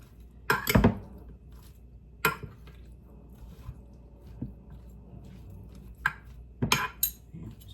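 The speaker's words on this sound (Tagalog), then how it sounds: "Mix lang natin." Ampalaya (bitter gourd) salad with pork, carrots and cucumber is tossed in a bowl, giving a few sharp clinks of a utensil and soft wet squishing at irregular intervals against quiet room tone.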